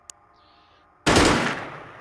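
A single sharp gunshot in the video game Xenonauts bursts out midway with a long rolling tail, after a faint click and quiet background hum.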